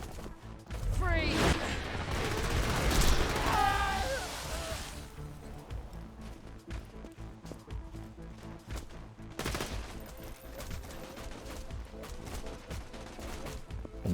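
Bursts of rapid gunfire from an enemy nomad in a shooter game, heavy and loud for the first few seconds, then thinner scattered shots and crackles with some quieter stretches.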